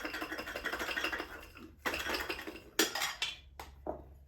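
Garlic cloves rattled hard inside a lidded bowl to loosen their papers, a dense clattering that runs in bursts, breaks off, and resumes in shorter shakes.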